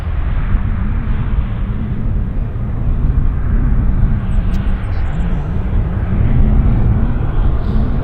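An airliner taxis at Vancouver Airport with its port side engine shut down, giving a steady loud jet roar and low rumble that holds throughout without a break, no talking.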